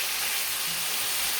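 Angus boneless chuck steak frying in a hot pan, with a loud, steady, close sizzle of constant hissing crackle and no talking.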